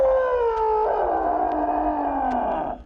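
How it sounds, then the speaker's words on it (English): A long, loud animal roar used as a lion sound effect in a Wizard of Oz audiobook, a single sustained cry sliding downward in pitch and fading out at the end. "the lion let out a huge and terrifying roar"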